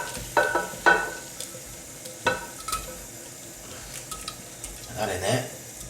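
Beef caramelising in a pan for a stifado gives a soft steady sizzle under clinks and scrapes of stirring, with a few sharper knocks and someone speaking over it.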